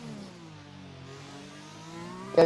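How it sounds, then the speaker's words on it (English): Car engine in the RSF1 racing game, Singapore street circuit, holding a steady mid-pitched drone with harmonics sweeping slightly down then up, ending in a sharp louder burst as revs climb; no talking. "So leaves it in 2nd and short shifts into 3rd. Now revs it right out again."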